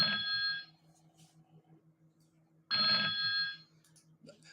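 Two bursts of an electronic telephone ring, each lasting about half a second, with a second-long gap between them, heard on a trading radio call-in program. A steady low hum runs underneath, and nobody speaks.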